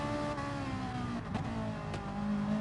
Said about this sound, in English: The Citroen, the Porsche, Ferrari, 3 manufacturers side by side, still fighting for position.